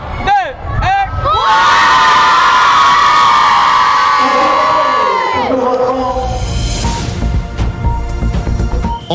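A large crowd, many voices including children, shouts and cheers loudly and continuously at a women's football event, the roar swelling and holding, then breaking into scattered cheers and whoops.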